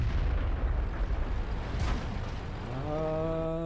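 A tank cannon round slams into a T110E5 heavy tank in World of Tanks, a loud booming impact with a sharp crack, followed by a rising mechanical tonal hum amid continuous rumbling battle noise.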